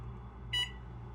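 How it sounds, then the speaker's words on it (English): A kitchen timer gives a single short, bright electronic beep as it is set, clear over quiet room tone in a kitchen during clarified butter preparation. "we'll set a timer for"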